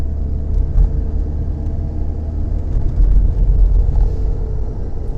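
Simca 1200 classic car rolling over speed bumps, a steady low engine and road rumble with a slight swell in the middle and no distinct thumps.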